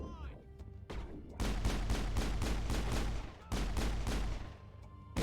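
Rapid bursts of video game gunfire in an online shooter, dense volleys of shots in two long sustained runs with brief pauses between, loud and close, with a voice talking at the start.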